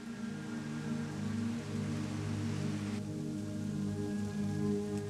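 Steady rainfall in the small town of Elberton, Georgia, a soft, even patter of drops on surfaces running throughout without speech, under a low constant hum.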